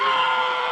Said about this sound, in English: You may get screamed at.